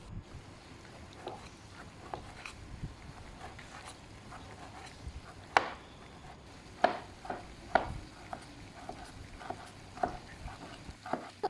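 A knife cuts tomatoes on a board while vegetables are prepared for homemade shawarma, producing quiet, irregular tapping and slicing strokes with a few sharper knocks against the board, and no voices.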